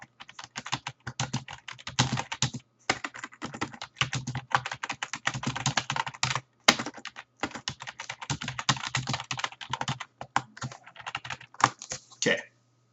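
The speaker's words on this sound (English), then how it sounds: "I'm going to type it out so I know to bring it up later." Rapid, continuous clicking of fingers typing on a computer keyboard, close and steady, with a few short pauses between bursts of keystrokes.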